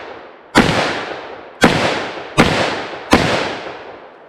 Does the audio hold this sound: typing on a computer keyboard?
no